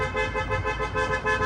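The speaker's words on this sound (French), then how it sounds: "Là je klaxonne ma femme" A car horn blares in one continuous sustained honk lasting the whole moment, loud and close with a steady buzzing tone over faint road noise.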